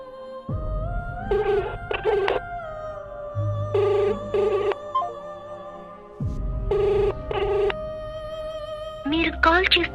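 Outgoing phone call ringing back in repeated paired bursts of ringback tone, loud and close, with a low steady hum between rings and a brief tone at the end.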